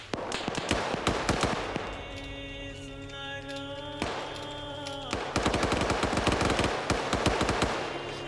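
Machine gun fire in a military shooter video game, rapid bursts of close gunshots rattling in stretches, with a tonal sound layered through the middle and heavy sustained firing toward the end.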